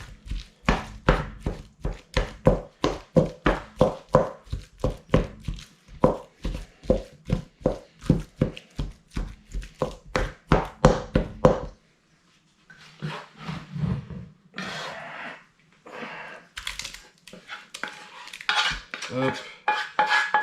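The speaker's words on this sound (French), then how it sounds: "mélanger ça à la chair à saucisse" Sausage meat filling for homemade cannelloni mixed in a bowl: a long run of rapid, rhythmic wet slaps and clanks of a utensil against the dish, then a brief pause and slower, irregular squelching and scraping, loud and close.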